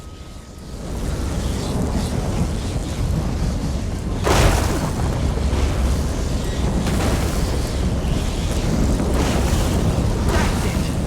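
A loud lightning strike with rolling thunder from a video game set near an old Colovian tower in a town; a broad rumbling roar fills the whole stretch, with a sharp crack near the middle.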